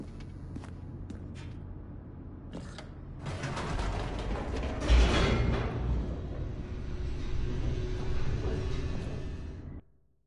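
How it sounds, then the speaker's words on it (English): A descending elevator in The Stanley Parable gives off a steady low mechanical rumble with creaking and grinding. It swells louder midway and stays heavy until it cuts off abruptly near the end. "The elevator raced downward, plummeting towards an unknown fate."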